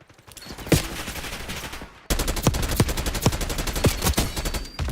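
Rapid gunfire in the shooter video game Black Ops 6, repeated sharp automatic shots with a louder, denser burst in the second half and no talking.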